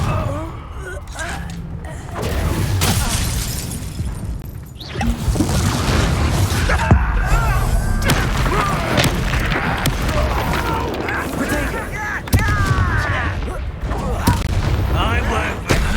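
Repeated Confringo fire-spell blasts in the Hogwarts Legacy video game, dense booms and crashes layered over continuous combat noise, with voices shouting spell names throughout.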